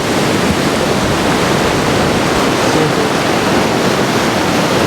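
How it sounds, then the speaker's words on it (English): Ocean waves break near surfers, a loud, continuous wash of surf noise. It stays close and steady with no voices. "This big wave's coming."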